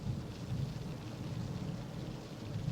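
Steady heavy rain with a low rumble of thunder rolling underneath in the 1976 film Carrie, a dense continuous wash of sound with no voices.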